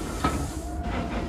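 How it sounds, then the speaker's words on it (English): A cartoon steam engine puffs along its route, giving short hissing steam bursts and rail clatter, moderately close and brief, with no voices. "Meanwhile, James puffed along his route."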